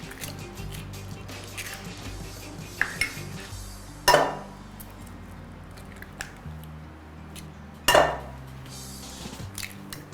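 A whisk clatters against a bowl, beating three eggs with sugar for homemade cake batter, with steady scraping and two sharp louder knocks against the bowl.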